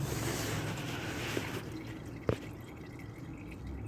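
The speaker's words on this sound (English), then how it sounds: "Just letting the last bit drip off." Transmission fluid from a 2002-2006 Honda CR-V dripping from the drain during a fluid change without a hoist. One distinct drop and a fainter one land over a steady background hiss.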